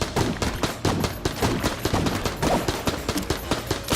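Rapid, dense bursts of gunfire from Enter the Gungeon rattle in quick succession, loud and close, like a sustained fusillade with no voices over it.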